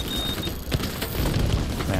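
Enemy gunfire in The Division 2, with sharp shots and booming impacts popping irregularly around the player amid a busy combat din, a voice talking over it.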